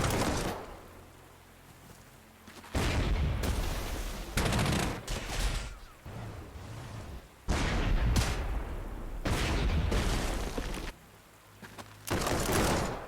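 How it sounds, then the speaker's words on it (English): In the Panzer Corps 2 war strategy game, a fort opens fire: several heavy bursts of gunfire and booming blasts come in separate loud volleys, broken by short quieter gaps with low rumbling between them. "Is that a fort shooting at me?"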